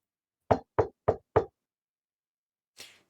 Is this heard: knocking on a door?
yes